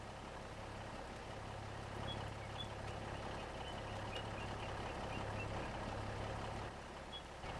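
Truck reversing beeps in Farming Simulator 25 pulse steadily over a constant low engine drone, moderately loud and repeating at an even rhythm for several seconds.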